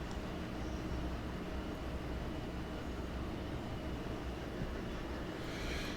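A G-25 locomotive in Railroader hauls a 1,000-ton train, a dense continuous rumble and rolling rail roar that stays steady and loud throughout with no voices.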